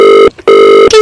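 A doorbell with an electronic, phone-like tone rings in two loud bursts separated by a short gap, close by and with no talking over it.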